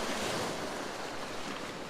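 Ocean waves break against rocks in a steady, loud roar of surf, with wind buffeting the microphone and no voices.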